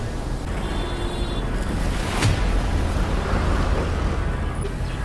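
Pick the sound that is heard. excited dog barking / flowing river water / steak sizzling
flowing river water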